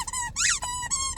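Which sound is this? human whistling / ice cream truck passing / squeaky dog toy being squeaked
squeaky dog toy being squeaked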